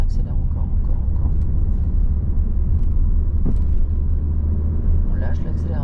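A car's engine steadily revving as the learner driver accelerates during a driving lesson, a continuous low rumble heard from inside the cabin beneath an instructor's ongoing talk.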